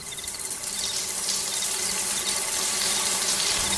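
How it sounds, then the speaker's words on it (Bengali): Steady running water pours continuously, like a tap or shower filling while a woman bathes, a bright, even hiss that holds close and unbroken throughout with no voices. "গিয়ে ভালো করে স্নান করলো।"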